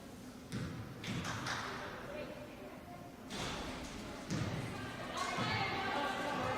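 Several dull thumps of a basketball bouncing on a gym floor before a free throw at a girls' varsity high school game, irregular and moderately close, with crowd chatter and voices around.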